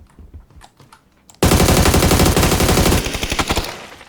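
Video game gunfire as the last bullets are spent: a few quiet, scattered clicks, then an abrupt loud, sustained rapid-fire burst that thins into separate, tapering shots near the end.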